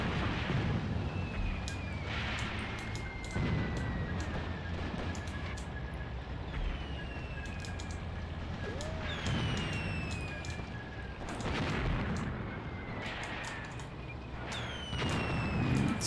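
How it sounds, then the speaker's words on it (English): Indirect artillery fire in the war strategy game Graviteam Tactics, repeated heavy explosions booming over a constant low rumble, some near and loud, others distant, with whistling incoming shells between impacts. "that's looks like indirect fire"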